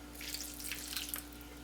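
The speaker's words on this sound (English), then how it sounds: "So I'm going to put a little water in." Water pours steadily into a bowl of raw onion cracker dough, a soft, continuous trickle with light splashy flecks over a low constant hum, faint and close, with no one speaking.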